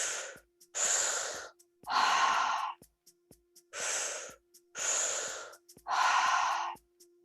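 Slow, deep breaths taken during a guided meditation breathwork exercise, drawn into the belly and chest and released without pushing, six long airy inhales and exhales in a steady cadence, close and alone over a faint low hum.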